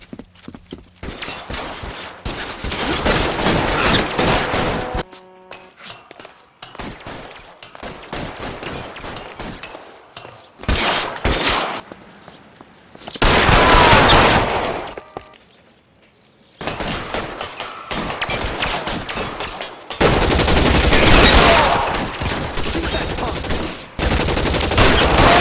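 Gunfire in a police shootout from the video game L.A. Noire, with loud bursts of rapid shots and machine-gun fire in several separate volleys, close and harsh, broken by quieter gaps.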